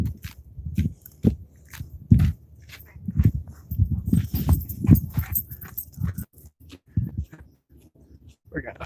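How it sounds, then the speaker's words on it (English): A dog passes nearby on a disc golf course at ThunderRidge High School, with close snuffling, panting and mouthy sounds in irregular bursts over several seconds, with faint voices in the background. "But she has a dog, so you know."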